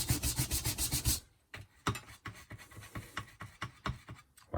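Wax being rubbed onto faux leather, a rapid series of rhythmic brushing strokes up close, followed by slower, uneven rubbing passes.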